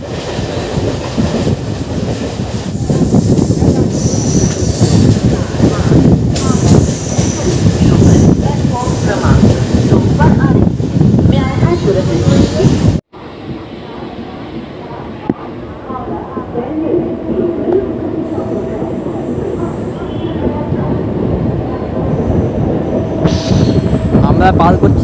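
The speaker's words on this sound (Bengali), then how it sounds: "আমাদের ট্রেন এসে পৌঁছালো বালিতে" A MEMU passenger train on the Purulia to Howrah line, on its inaugural run, passes through Bally station: a loud, dense rumble of wheels and carriages for about thirteen seconds, then a sudden drop to a quieter, steadier onboard hum with faint squeals.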